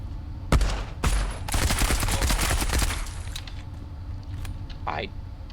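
Enemy gunfire in the pre-alpha shooter game Marauder: a sharp shot, then a dense rattle of rapid shots for about two seconds before fading into quieter background noise.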